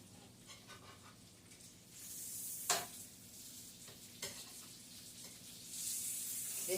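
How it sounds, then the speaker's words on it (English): Bacon frying in a pan at a Southern breakfast stove, a soft steady sizzle with brief utensil scrapes and a sharp clack as it is stirred, moderately quiet and without speech. "And I'm about to flip my bacon."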